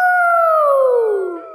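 A cartoon character imitates a wolf howling at the full moon, one loud, long, clear howl that slides gradually downward in pitch before fading.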